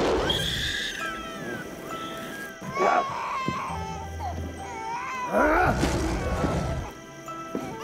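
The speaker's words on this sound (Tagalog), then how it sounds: "Saan ka, baby bata, umiiyak?" A baby cries loudly in a comedy scene with Tarzan and Jane, with wailing, rising sobs and whimpers over a noisy background and some voices.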